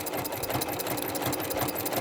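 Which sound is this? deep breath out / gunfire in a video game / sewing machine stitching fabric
sewing machine stitching fabric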